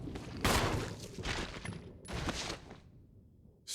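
A gun fires at a zombie in the Resident Evil Remake video game, giving three separate booming shots about a second apart. Each shot is followed by a short decay and then quiet.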